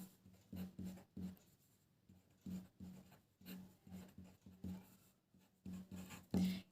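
Chalk or marker scratching across a classroom board during a physical chemistry lecture on quantum mechanics, in short rubbing strokes with brief pauses, fairly close and moderately quiet, with no talking.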